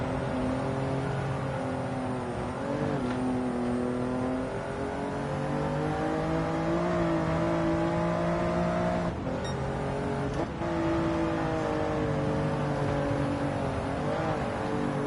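A race car in Gran Turismo 7 accelerates with a steady, loud engine whine that climbs in pitch, dropping briefly at a few gear shifts before rising again, with no voices.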